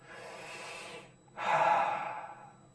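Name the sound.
deep breaths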